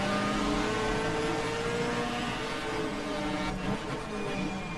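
Race car engine in the sim racing game GTR2 at Winton, a loud continuous drone with a brief dip and shift in pitch near the end.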